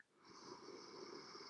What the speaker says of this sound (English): Last big breath.